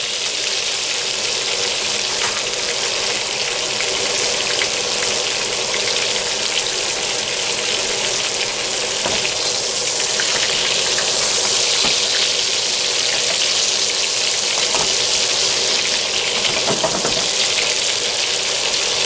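Hamburger patties frying in a pan: a loud, steady, hissing sizzle that runs unbroken throughout with no talk.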